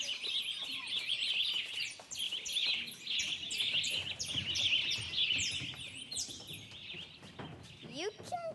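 Birds chirp busily and continuously during a children's theatre production of Into the Woods, with bright overlapping tweets and trills throughout and a faint stage murmur beneath.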